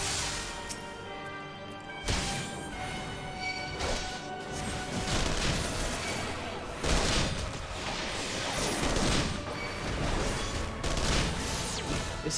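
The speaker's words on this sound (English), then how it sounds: "These things are shooting me." Rapid gunfire and crashing impacts from a mech in Final Fantasy XIV, with repeated bursts of shots over dense game music and effects, loud and continuous throughout.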